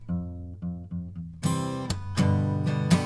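Single guitar note F plucked repeatedly, four clean, evenly spaced strikes, then three louder, brighter ringing hits with rich overtones; close and alone, no talking.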